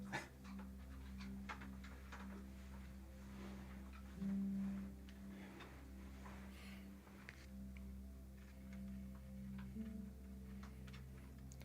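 A puppy pants steadily nearby, with faint whimpers and soft ticking clicks over a constant low indoor hum throughout.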